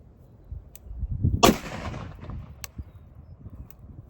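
A PSA AR-10 rifle chambered in 7.62x51 / .308 fires a single loud, sharp shot outdoors at a target of stacked tires, with a booming report and a decaying echo.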